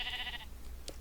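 A sheep in a video game bleats once, a short wavering cry in the first half second, followed by a faint soft click.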